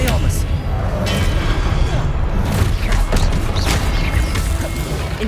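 Expelliarmus cast in a Harry Potter video game, a dense and loud run of magical blasts and crashes with steady rumbling, busy and continuous throughout.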